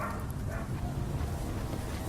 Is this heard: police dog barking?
yes